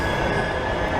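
Manchester Metrolink tram pulling into the Piccadilly station platform, a steady rumbling roar with rail noise, close and loud throughout the brief moment, no voices.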